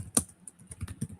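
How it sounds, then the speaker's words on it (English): Quick, light clicks of typing on a computer keyboard come close and fairly quiet in an uneven patter of keystrokes with no talk over them. "as I'm typing in a poll right now, on the YouTube thing"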